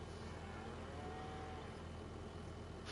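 Cows mooing in the farming video game Farming Simulator 25, steady lowing over a dense, continuous barn ambience at moderate level with no speech.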